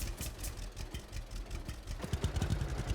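A steady low tractor engine idling and rumbling in the farming video game Farmers Dynasty, with a rhythmic chugging pulse that gets a bit stronger toward the end; no talking.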